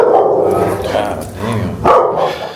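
A neighbor's pair of large dogs barking loudly and close by in a few bursts, with a person reacting in the background.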